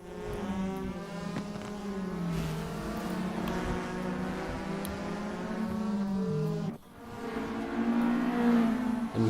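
Race cars in the SRA GTi Challenge scream around the Aldo Scribante circuit, with layered engine notes rising and falling as they pass and one sharp dip before the roar builds again.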